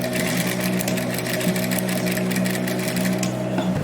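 A sewing machine stitches a loop in a rapid, steady mechanical whir with a fast repetitive needle clatter, close and loud throughout.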